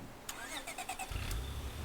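Car engine starting in the Lethal Zone survival game: a short starter crank after some chimes, then the engine catches and settles into a low, steady idle rumble at moderate loudness, no talking.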